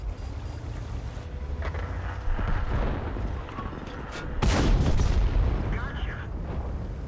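In a tank battle game, a Rheinmetall Borsig Waffenträger tank destroyer's gun fires with a loud boom, followed by the shot bouncing off armor, amid rumbling engine noise and a speaking voice.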